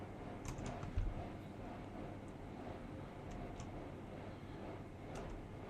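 Computer keyboard keys tapped lightly at close range, a few soft clicks and presses of the enter key spread over a steady low room hum, with no voices.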